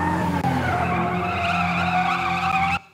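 Loud, sustained screech of a car's tyres skidding, a sound effect cue placed in an edit timeline, lasting nearly three seconds before stopping abruptly.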